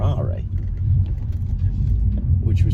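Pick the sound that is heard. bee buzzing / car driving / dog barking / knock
car driving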